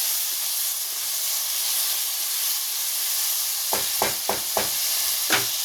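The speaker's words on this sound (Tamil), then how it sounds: "தக்காளி இந்த மாதிரி ஜூஸியாக வர அளவுக்கு நல்லா வதக்கிக்கிறோம்." Tomatoes and onions sautéing for dum biryani in a pan, giving a steady loud sizzle and hiss, joined toward the end by several sharp scraping stirs of a spoon against the pan, no speech.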